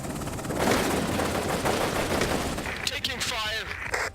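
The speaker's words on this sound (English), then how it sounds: "Taking fire." Dense bursts of automatic and scattered gunfire from the combat game Afghanistan '11, loud and continuous, with a voice speaking over the shooting toward the end.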